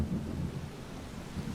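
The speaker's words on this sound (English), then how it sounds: "storm's coming" Low thunder rumbles steadily through a storm with rain, a deep continuous roll that swells and eases in an audio comic with no voices.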